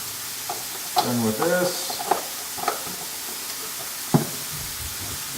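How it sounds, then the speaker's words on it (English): Sausages frying in a pan for gumbo give a low steady sizzle with a few sharp utensil clicks and scrapes, while someone talks briefly over the cooking. "Got my sausages going."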